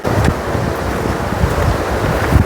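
A wide river swollen after heavy rain in Uttarakhand, heard as a steady loud rush of water mixed with wind noise buffeting the microphone, with no talk.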